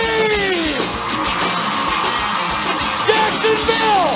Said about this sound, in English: Let me hear you scream!